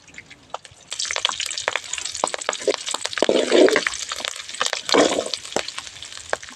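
Curry leaves and chopped green chillies fry in a pan with dense, crackling sizzle and spitting pops, swelling into louder bursts midway, with no talking.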